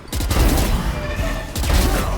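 Dense bursts of automatic gunfire in the video game Valorant, loud and continuous with a brief pause partway through.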